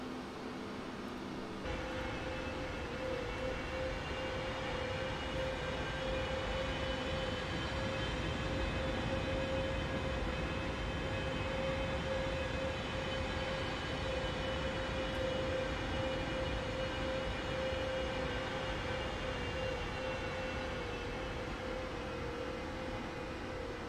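Aircraft on landing and rollout in Microsoft Flight Simulator, arriving at Pacifico, Panama: a steady, loud engine drone with a sustained whine runs throughout, after a brief quieter start.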